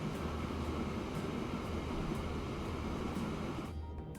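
A freight train in Transport Fever 2 pulls in to pick up a load of logs, giving a steady low rolling rumble with faint rhythmic clacks throughout, trailing off at the end.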